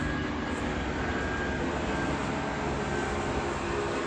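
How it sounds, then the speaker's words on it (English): An airplane passes overhead outdoors, a steady broadband roar of engine and wind noise that stays loud and even throughout with no talking. "so plane's coming"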